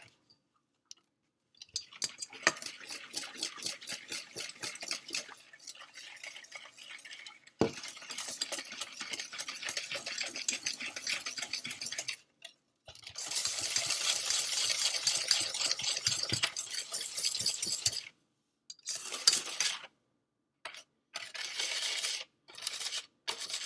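Banana batter stirred by hand with a utensil in a bowl, no stand mixer, steady scraping and clicking strokes in bursts with short pauses, close and fairly quiet.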